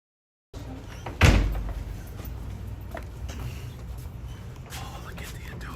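A door at Mission San Diego de Alcalá is pushed open as a school field-trip group heads outside, giving one solid close thud, then a murmur of room noise with faint voices.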